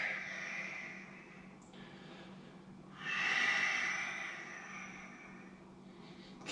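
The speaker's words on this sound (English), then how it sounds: "Keep breathing nice and deeply." Slow, deep breaths during a yoga core-strengthening exercise, soft airy inhales and exhales heard close up in a quiet room, no talking.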